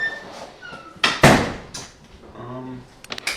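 A door swings shut with a solid knock and short rattle near the listener, set among other bumps and shuffles in a room; voices murmur faintly around it.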